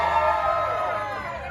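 A wrestling arena crowd cheers in a sustained, loud roar that fills the space, with a commentator's voice over it.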